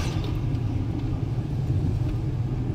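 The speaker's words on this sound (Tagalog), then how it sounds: "Maraming sasakyan, ah." Heavy road traffic with many vehicles rolls past in a continuous low rumble of engines and tyres, steady and fairly loud with no clear breaks and no talking.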